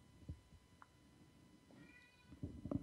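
A house cat meows a few times, faint and somewhat distant, over a low background murmur with some rustling, growing louder toward the end.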